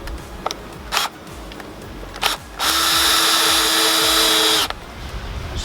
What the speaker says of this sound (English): screw your material